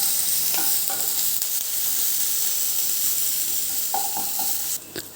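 Ginger and curry leaves sauté in a pan over a medium flame, giving a steady loud sizzle with a few light stirring clinks and scrapes near the end.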